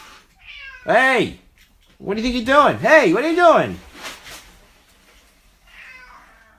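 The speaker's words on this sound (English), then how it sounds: "Sorry, my cat is just coming in." A pet cat meows loudly several times in a home during a live-stream model build, the drawn-out cries coming in bursts while someone talks to it over and between them.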